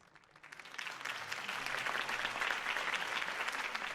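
Video game crowd applause in Batman: The Telltale Series swells up after a quiet start and stays as steady, dense clapping through to the end.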